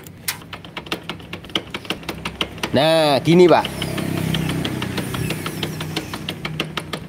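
A car engine knocks with a steady, rapid tok-tok ticking heard close up, broken midway by a short mechanical whine before the knocking resumes. Someone speaks a few brief words over it.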